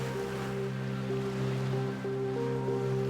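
Steady ocean surf rushes without a break, a continuous wash of water with a low tonal hum running underneath.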